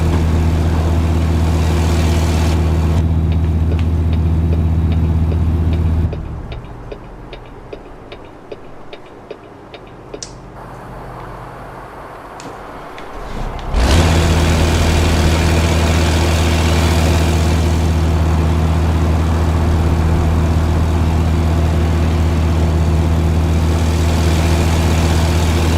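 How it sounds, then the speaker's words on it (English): Diesel truck engine idling in American Truck Simulator, a steady deep rumble with a low drone that drops away for several seconds midway, then returns at full strength and runs evenly to the end. "We got life in this engine."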